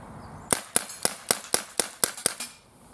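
A Gamo P-25 blowback air pistol fires eight sharp shots outdoors in a garden, aimed at a target about 12 yards away. The cracks come at a steady, quick rhythm, each one close and crisp, with quiet between them and no voices.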